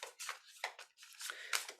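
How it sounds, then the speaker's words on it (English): Tarot cards shuffled by hand, giving a quiet run of papery brushing and riffling bursts in quick, uneven succession with no voice. "thoroughly shuffle the cards"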